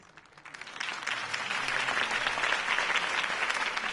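Dense video game crowd applause in Batman: The Telltale Series swells in within the first second, then holds as steady, sustained clapping and cheering noise.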